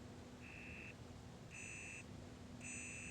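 An alarm buzzer in Final Fantasy XIV Dawntrail sounds three times as evenly spaced, steady electronic beeps, each about half a second long, over a constant low hum of game ambience.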